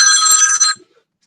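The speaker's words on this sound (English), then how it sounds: "Hang on, let me take this phone call." A telephone rings once with a bright electronic trill lasting under a second, loud and close, then cuts off into silence.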